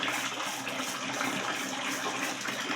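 Water rushes and sloshes steadily in a basin while a plaster piece is set in to soak, a close, even, continuous splashing.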